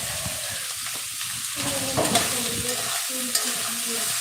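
Food browning in a pan with steady sizzling and frying hiss throughout, plus occasional stirring scrapes and clinks, fairly close and continuous.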